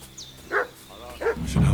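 A dog in Kingdom Come: Deliverance II gives two or three sharp, moderately distant barks spaced about half a second apart, with faint ambient sound between them.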